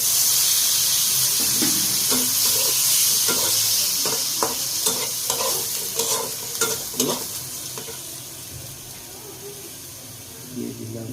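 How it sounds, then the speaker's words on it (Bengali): Spring rolls fry in hot oil, giving a continuous close sizzling hiss broken by scattered clatters and scrapes of stirring in the pan. "তেলের মধ্যে ভালো করে ভেজে নিব।"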